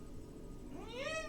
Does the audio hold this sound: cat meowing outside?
yes